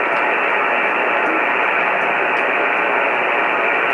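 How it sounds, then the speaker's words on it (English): Dense, even hiss of shortwave static from a Grundig Satellit 800 receiver, loud and unbroken for the whole stretch with no voice over it. "Real staticky crap."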